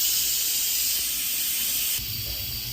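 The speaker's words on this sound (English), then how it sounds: "I'm gonna go ahead and let this steam out." Steam hisses steadily out of a cooking pot as it is released, a continuous close rushing hiss that eases slightly partway through.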